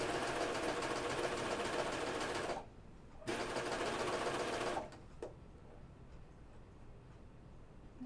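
A sewing machine stitching a seam on a Myosotis dress, running in steady buzzing bursts: a long run, a brief pause, another run, then it stops with a faint tick before quiet room hiss.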